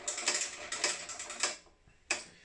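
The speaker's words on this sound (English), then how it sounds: "you literally just turn the handle, you turn it anti-clockwise," Clicking ratchet-like mechanism as the handle of a Lumberjack PT254 planer is turned anti-clockwise to lower its bed, a run of quick close ticks followed by a pause and one sharper click.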